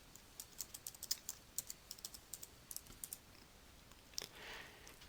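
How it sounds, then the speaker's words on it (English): Rapid typing on a computer keyboard, entering a short meeting description into a calendar's subject box: a steady run of close, crisp key clicks with brief pauses and a slightly louder flurry near the end, no voices. "Here you will need to type a short description of the meeting into the subject text box"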